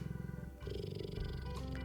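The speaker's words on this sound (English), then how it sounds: "the unmistakable rumble of a purr began to ebb and flow" A purr rumbles close and low, in two swells with a brief dip between them, soft and continuous with no voices over it.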